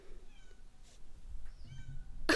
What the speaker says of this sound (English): Hold on, her cat wants in.